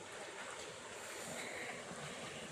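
Mountain water flows through a garden irrigation channel lined with a stone wall near Órgiva, Spain, giving an even, close, unbroken rush with a breezy hiss on the microphone.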